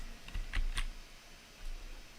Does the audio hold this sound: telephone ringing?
no